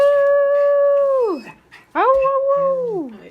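A dog howls close by in two long, sustained cries, each sliding downward at the end and split by a short pause. The sound is loud and stands alone.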